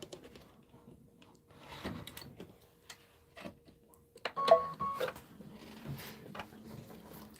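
Embroidery machine sewing a satin stitch around small bush motifs on a quilt block, with quiet intermittent mechanical ticks and clicks, a brief whir and a few louder clunks, close with no talk.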